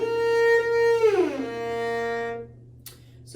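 A single cello note on B flat slides up an octave to the next B flat, a smooth shifting exercise played clearly and alone, sustaining before fading out.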